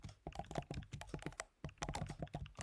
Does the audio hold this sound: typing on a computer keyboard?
yes